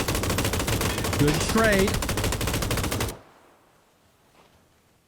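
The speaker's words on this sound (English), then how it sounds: "Shooting through the smokes." Rapid automatic gunfire from a PUBG custom match limited to M249 and MK12 rifles, a loud unbroken rattling burst for about three seconds that cuts off abruptly, with a voice speaking over it.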